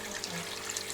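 Water pours steadily from a vessel into a pot over pieces of lamb for a spring navarin stew, a continuous close splashing rush with no talk.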